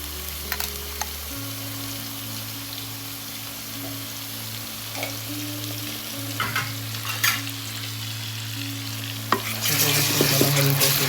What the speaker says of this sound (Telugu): అల్లం వెల్లుల్లి పేస్ట్ వేసుకొని మంచిగా మనం అల్లం వెల్లుల్లి పేస్ట్ తక్కువ వాసన పోయేంత వరకు దీంట్లో ఫ్రై చేసుకోవాలి.